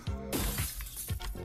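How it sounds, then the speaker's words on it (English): Glass window panes shatter in the video game Project: Mania, a bright crash followed by tinkling shards and further breaking bursts, loud and close with no talk. "The mysterious ne'er-do-well breaks all your windows"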